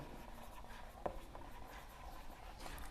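Faint pen strokes on paper while a Class 10 maths Euclid's division lemma solution is written out, a soft steady scratch with one small tap near the middle, quiet and close.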